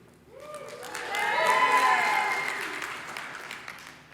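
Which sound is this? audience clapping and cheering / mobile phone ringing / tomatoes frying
audience clapping and cheering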